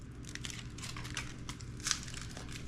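Close, steady crinkling of tin foil being folded around whole garlic cloves dressed with olive oil and salt. The rustle is continuous and fairly soft, with a slightly sharper crunch near the end.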